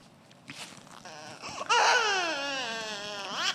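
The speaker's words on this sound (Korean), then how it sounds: "첫 번째 애기 웁니다" Recorded infant crying: a few short fussy whimpers build into a loud, sustained, wavering wail that holds to the end.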